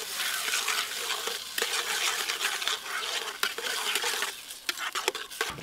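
Vegetables for kyopolu sizzle and fry steadily in a pan, with occasional stirring scrapes and utensil clinks over a continuous crackling hiss; no voices.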